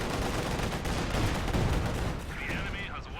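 Rapid machine gun bursts crackle through a Company of Heroes 2 battle, dense and continuous over booming explosions, with a whistling tone rising near the end.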